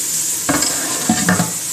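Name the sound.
kangaroo tail sizzling in a pan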